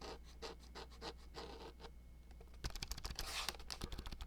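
Close ASMR typing on a computer keyboard, a run of quick soft clicks that pauses briefly before a denser, louder burst of rapid keystrokes.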